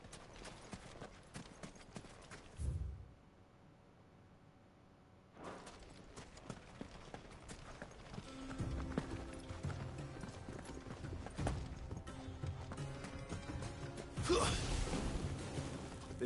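Horse hooves clip-clop in a steady rhythm as a mount is ridden in the Final Fantasy XVI video game, moderately loud with a short quiet gap partway through and game ambience and effects layered over the later hoofbeats.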